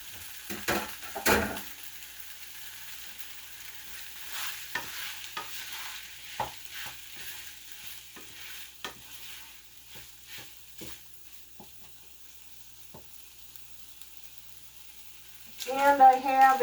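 Pork roast searing in a hot pot, a low soft sizzle with scattered scrapes and clinks of stirring, ending in a louder burst of frying and clatter.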